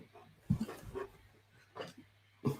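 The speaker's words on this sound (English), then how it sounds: "The dog has just come into the shot" A dog entering the room makes a few soft whimpers and brief yips, quiet and close, spaced out with pauses in between over a low background hum.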